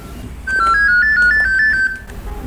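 A phone ringtone plays loud and close, a bright electronic melody of quick alternating tones lasting about a second and a half, with no talk.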